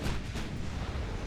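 Naval artillery salvo in the Ultimate Admiral Dreadnoughts warship game, a dense, loud rumbling blast of big guns filling the whole brief moment with heavy low booming and no pause.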